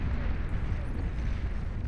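Armada Quaker heavy plasma cannon on its three tracks fires off into the distance in the Beyond All Reason 8v8 deathmatch, a low rumbling boom that rolls on steadily without distinct separate shots.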